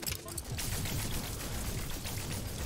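A pulse splitter weapon fires in No Man's Sky, letting off a fast, continuous stream of rapid energy shots that blur into a dense, loud crackling burst lasting the whole moment.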